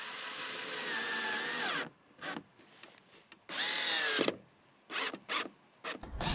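A power drill drives screws into wood for a van partition wall: a long whirring run that stops, a few short bursts, a second sustained run, then more brief pulses, close up.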